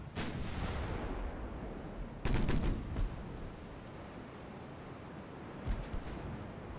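Naval guns fire in Ultimate Admiral: Dreadnoughts, with a German fleet set in 1890: several heavy booming salvos, the loudest near the middle, rolling over a steady roar of sea and wind.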